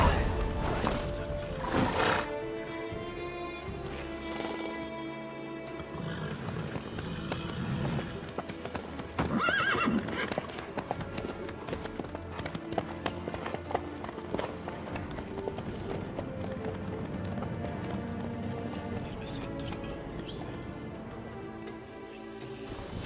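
Horse hooves clip-clop steadily in a video game, mixed into a dense, continuous bed of game music and ambience, with a louder burst near the start and a rise around the middle.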